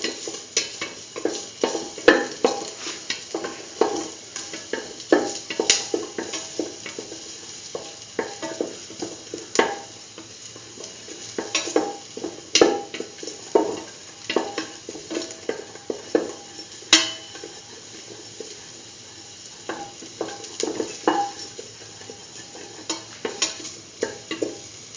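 Garlic and ginger pieces sauté in hot oil in a pan, a steady soft sizzle broken by repeated scraping and clinking stirs of a utensil against the pan.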